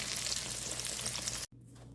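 Green tomatoes fry in a pan for Southern-style fried green tomatoes, giving a loud, steady hiss of sizzling oil that cuts off abruptly near the end and resumes more quietly.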